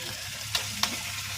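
Meat sizzles in hot oil with ginger-garlic paste and onion, a steady close frying hiss broken by two sharp spatters or stirs.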